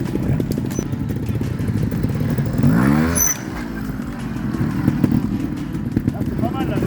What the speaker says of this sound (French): on met un coup de gaz violent